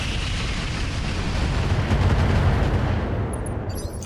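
Heavy mech weapons fire in the Roguetech game, a dense sustained roar of gunfire and artillery-like blasts that swells loud and steady for several seconds before thinning out, with no voices over it.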